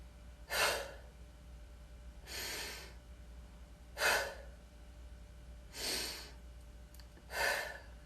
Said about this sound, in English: exaggerated breathing.